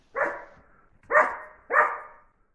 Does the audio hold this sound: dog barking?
yes